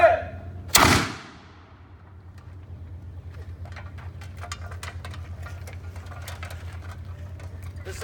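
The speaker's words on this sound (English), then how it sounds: "This is the matchlock musket" A matchlock musket fires at a 17th-century battlefield demonstration, one sharp loud blast near the start that fades quickly, then a steady low hum and scattered faint clicks follow.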